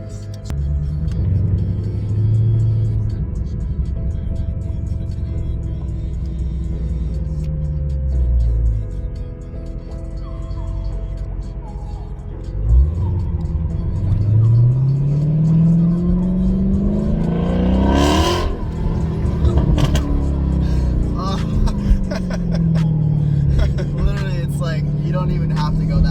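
A Toyota MR2 engine revs in repeated throttle blips, rising and falling through loud swells with one sharp climbing rev to a peak partway through, close up inside the car while people talk over it.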